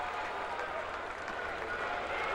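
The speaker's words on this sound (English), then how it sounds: "The crowd goes crazy." A large stadium crowd at a Cubs at Indians baseball game roars and applauds in a dense, steady wash of cheering and clapping that fills the whole stretch without a break.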